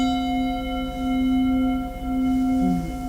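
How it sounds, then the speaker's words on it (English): A Sabian resonating bell struck on a C note rings out with a steady, sustained metallic tone and shimmering overtones that hold alone for the whole stretch, swelling slightly in places. "This is made by Sabian, the cymbal maker, and it's called a resonating bell."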